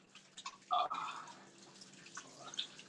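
Hot water runs from a sink tap during handwashing, a soft uneven splash and drip with a brief louder gush near the start, fairly quiet and close.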